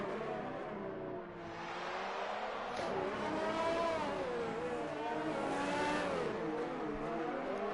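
F2 race cars scream past on the Singapore circuit in a PlayStation 4 racing game, with engine whines rising and falling in pitch as several cars accelerate by at a steady, fairly loud level.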